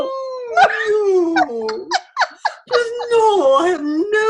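A pet dog named Mira howls in long, wavering, rising and falling tones, broken by short gaps and yelps. The howling is loud and fills the whole stretch.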